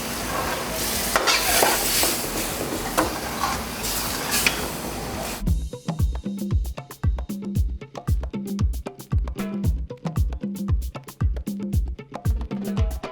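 Mutton added to a frying pan: a loud hiss and sizzle first, then rhythmic scraping and stirring strokes repeating steadily against the pan, no voices.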